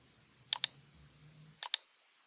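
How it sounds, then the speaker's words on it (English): Mouse clicks confirming dialog windows in RFEM 6 structural engineering software, two quick pairs of sharp close clicks about a second apart over a faint low hum, otherwise quiet. "confirm all windows by clicking OK"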